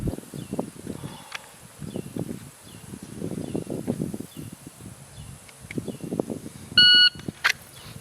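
A pistol shot timer at a plate rack sounds one short, sharp electronic beep near the end, loud and close, after stretches of soft rustling and muffled talk.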